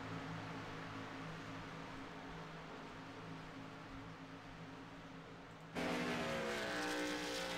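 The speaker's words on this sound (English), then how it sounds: "Getting through the gearbox, getting up to speed." A race car pulls off pit road and climbs through its gears. A steady engine roar with faint distant noise suddenly swells louder near the end, heard alone with no commentary.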